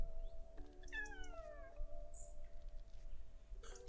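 A small pet cat gives a couple of rising, drawn-out meows close by, the calls bending in pitch, over a quiet room with a steady low hum.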